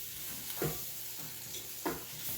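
Sausage pieces sizzle in a pan as flour is stirred in for gravy, a soft steady fry hiss broken by a few scraping spoon strokes against the pan, close by.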